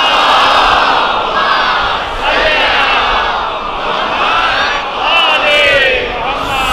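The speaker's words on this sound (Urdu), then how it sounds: "اس سے اچھی اور بلند صلوات نبی کی ذات." A mosque congregation at a Karachi majlis recites salawat together, loud and in unison. The chorus of many voices rises and falls in repeated waves, filling the space without pause.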